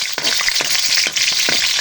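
Onion fries with ginger in a hot pan, giving a loud continuous sizzle broken by repeated soft stirring knocks.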